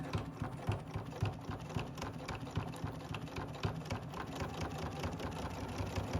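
A sewing machine stitches around the edge of a small face piece for a fluffy stuffed toy, running steadily with a fast mechanical chatter and no pauses.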